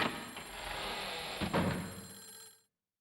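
In the video game Clock Tower: The First Fear, a telephone rings with a repeating electronic trill, fairly quiet and steady before cutting off abruptly near the end, with no talking.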